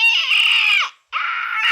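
A shrill, metallic screeching monster roar from the Godzilla film monster Gigan, two loud sustained cries separated by a short gap, close and alone with no talk.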